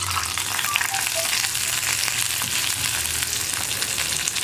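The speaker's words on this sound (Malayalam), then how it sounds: "അപ്പോൾ ഞാൻ വറവ് കറിയിലേക്ക് ചേർക്കുകയാണ്" Hot tempering with curry leaves poured into beetroot pulissery, a Kerala yogurt-based moru curry, giving a loud, dense, continuous sizzle and crackle with faint pops, close and steady throughout.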